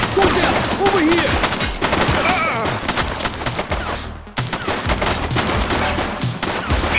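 Dense automatic gunfire fills a tense police shootout in the video game The Precinct, with rapid bursts, loud and close, and voices calling out beneath the shots.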